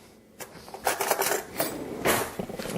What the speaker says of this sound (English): Sorry, I just had to get a spoon